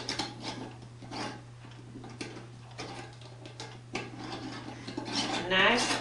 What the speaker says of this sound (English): And then I'm going to put the lid on.